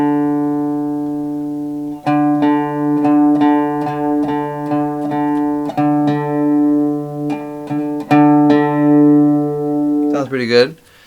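A guitar D string being tuned against the fifth fret of the A string, two plucked notes ringing together in repeated sustained tones with beating as the pitch shifts, ending in a brief scrape.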